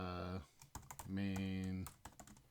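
Computer keyboard typed at a command line: short bursts of key clicks fall between two sustained stretches of voice, with the clicking fairly close and moderately loud.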